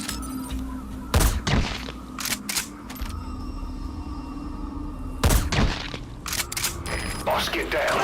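Enemy sniper fire in Metal Gear Solid V at a Soviet relay base cracks out in sharp, loud reports spaced apart, several shots in quick bursts over a background hum of game ambience.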